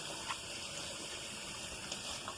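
Running water streams steadily from a kitchen tap as hands are washed, a soft, continuous hiss with small splashes, faint and with no talking.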